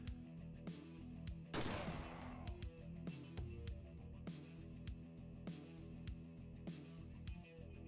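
Several gunshots from an enemy shotgun ring out in Ashes 2063, one blast louder than the rest, with other shots and game sounds over a low, steady backdrop.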